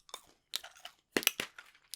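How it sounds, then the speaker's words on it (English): Close, quiet chewing of gum: three or four moist, crunchy bursts of biting with brief silent gaps between them. "Every time I chew on these things"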